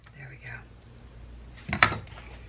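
A knife slices the bottom off a cauliflower on a kitchen cutting board, giving a single close, crunchy chop-and-scrape after a few quiet moments of soft handling noise and some speech.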